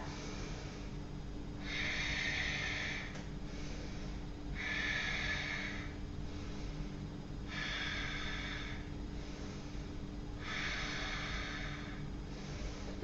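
Four slow, deliberate breaths held in Warrior A during an Ashtanga Vinyasa session. Each long, airy inhale and exhale is close and audible, with calm pauses between them over a low constant background hum.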